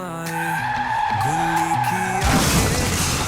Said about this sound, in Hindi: गुल्ली की गाड़ी अचानक से इधर उधर कैसे होने लगी?